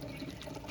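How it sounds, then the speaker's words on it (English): Water running gently from a kitchen tap over okra, a soft continuous splashing trickle, close and steady throughout with no voices. "turn that water on just a little bit"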